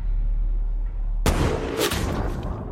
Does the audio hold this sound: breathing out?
no